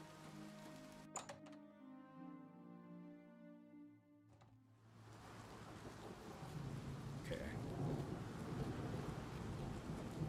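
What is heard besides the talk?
rain and thunder in Oblivion Remastered video game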